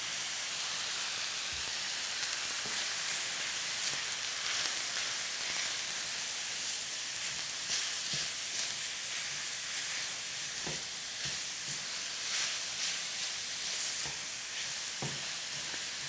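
Ground turkey cooking in a pan, lightly salted, gives a steady soft sizzle and hiss with occasional faint stirring clicks and no talking.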